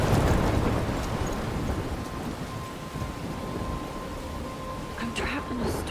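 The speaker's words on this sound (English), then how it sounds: "I'm trapped in a storm?" Steady rain with a low rumble of thunder fills a stormy scene in the video game Life is Strange, a dense continuous wash with a faint tone running through it.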